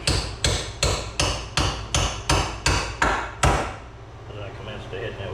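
A sledgehammer striking a bolt on a 1999 Miata suspension, nine loud, evenly spaced metallic whacks close by, then the strikes stop and quiet shop ambience remains.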